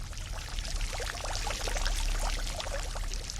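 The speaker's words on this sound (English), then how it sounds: "these silver basins are filling with water" Clear, cold water pours steadily into silver basins, a close, continuous splashing trickle with bubbling flecks and no voices.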